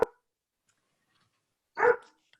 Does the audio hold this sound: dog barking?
yes